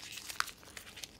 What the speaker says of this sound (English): I want you to crumple it. Just keep crumpling it, okay?